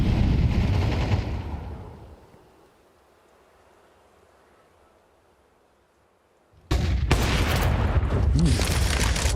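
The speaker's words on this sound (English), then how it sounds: "Missed shot there for Torji." Counter-Strike gunfire during a professional IEM Dallas 2025 esports match: loud, dense bursts of shots fade into a quiet lull, then a sudden heavy volley of rapid fire returns close and loud.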